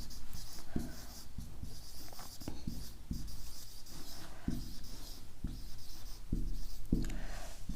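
A pen scratches across paper in steady rhythmic strokes, close and clear, with short pauses between bursts of writing and a soft hum in the background.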